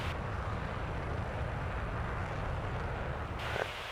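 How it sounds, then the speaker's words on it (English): Fighter jet afterburner roaring in the flight game Flyout, a steady, dense, loud engine rumble that holds throughout with no breaks. "Gonna get back on the afterburner here as we're trying to nose up."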